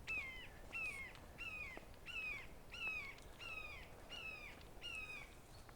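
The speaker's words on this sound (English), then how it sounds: "Sound like there are multiple hawks." Several hawks calling, a faint, steady series of about nine short harsh cries at an even pace, heard from a distance with no voices.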